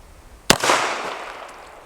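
A single sharp, loud gunshot from subsonic ammunition in an ammo test, a crisp crack followed by a short, fading outdoor echo.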